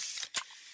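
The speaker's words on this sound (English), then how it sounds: "that's the sound of a freshly opened fizz-filled Pepsi" A freshly opened can of Pepsi fizzing, a close hiss of carbonation broken by a brief dip, then a sharp short pop-like burst that settles into a steady fainter sizzle.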